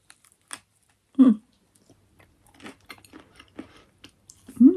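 Someone eating a warm piece of homemade bread pudding with lemon peel: a few soft chewing and biting sounds spaced out between quiet pauses, close up, with a brief vocal murmur near the start and end.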